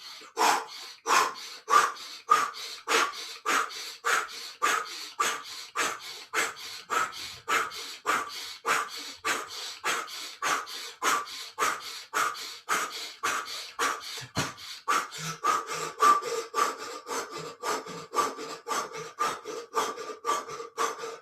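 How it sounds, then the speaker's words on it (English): Kundalini yoga breathing through pursed lips: a fast, even series of about forty forceful, raspy breaths, close and loud, pulsing like sawing, with no talking. "If you're breathing through the mouth, make up pursed lips and create a little bit of constriction so that you have a bit of resistance"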